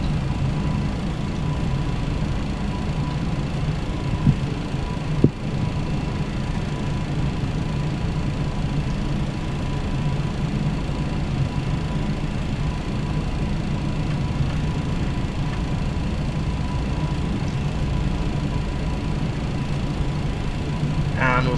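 Steady low jet engine hum from an MD-11F freighter in Microsoft Flight Simulator 2020, a constant broadband drone with a faint tonal whine and one brief click partway through, no voices.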